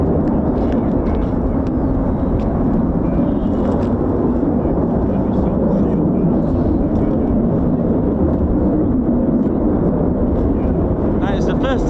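A US Air Force fighter jet, an F-15 or F-35, roars on takeoff in a loud, steady rumble lasting the whole stretch, with wind buffeting the microphone.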